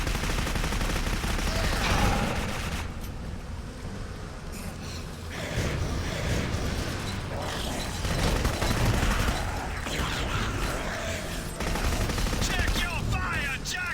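Sustained bursts of gunfire in the shooter game Clive Barker's Jericho, dense and loud over a busy battle mix, with brief lulls and a gasp-like vocal sound among the shots.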